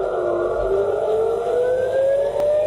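Air raid sirens wailing across Israel during a missile attack, a loud sustained civil-defense siren tone slowly rising in pitch, continuous and unbroken.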